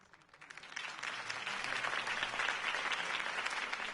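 A crowd in the video game Batman: The Telltale Series claps and applauds steadily, building up quickly and holding a dense, continuous wash of clapping.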